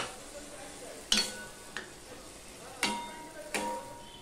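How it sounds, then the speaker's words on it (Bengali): Masala being stir-fried with tomato and green chilli in a pan, a steady soft sizzle broken by four sharp spoon scrapes and clatters against the pot. "এবার মশলাটা আমি কষাতে থাকবো। এর সাথে দিয়ে দিচ্ছি দেখো টমেটো আর কাঁচা লঙ্কা"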